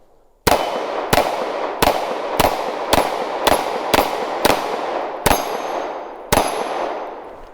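A CZ 75 SP-01 Phantom pistol fires at a steel hostage popper target. About eleven sharp shots in an even rhythm each ring out with a bright metallic clang, loud and close, and no one speaks.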